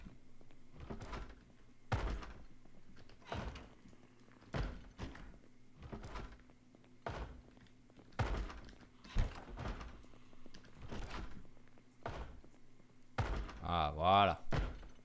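Door banging in the zombie survival game Project Zomboid: repeated sharp thuds at irregular intervals, fairly close and loud, with someone talking in between.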